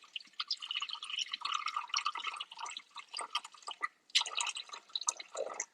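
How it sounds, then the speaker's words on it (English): Water pours into a Thermomix TM7 bowl in a light, trickling stream, splashing steadily with a brief pause before pouring again, close and fairly soft. "the first ingredient I'm going to add is my water"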